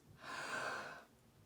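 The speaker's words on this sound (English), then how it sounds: "by breathing in like that" A single sharp, breathy inhalation drawn in quickly and held, close and fairly quiet, then cut off into near silence.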